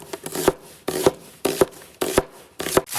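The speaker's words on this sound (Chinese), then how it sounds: "切点洋葱" A kitchen knife chops an onion on a cutting board: five sharp, evenly spaced strikes about half a second apart, close and clear, with nothing else heard.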